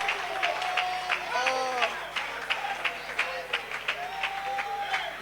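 A church congregation applauds for the Lord with steady, dense clapping that rises and falls, mixed with shouts and voices.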